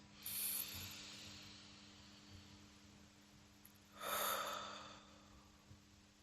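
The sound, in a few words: group breathing in before communal prayer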